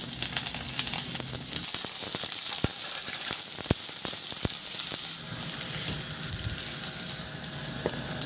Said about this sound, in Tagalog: Magpainit na rin ako ng mantika sa kawali at igisa ko na yung luya.